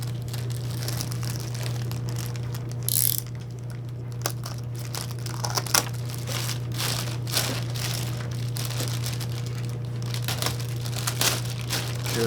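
Tape is cut and peeled off the fuselage of a Hangar 9 PT-19 model airplane, giving close crinkling and tearing crackles in irregular bursts over a constant low hum.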